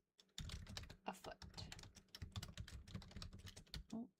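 Rapid typing on a computer keyboard, dense irregular clicks and key thumps close to the microphone, continuing steadily for several seconds with brief pauses.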